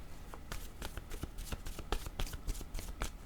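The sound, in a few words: oracle cards being shuffled and drawn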